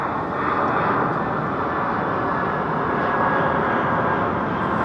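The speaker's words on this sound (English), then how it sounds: "Jumbo jet" A jumbo jet at Heathrow roars in a steady, loud, continuous broadband engine drone, close and unbroken for the whole stretch with no speech.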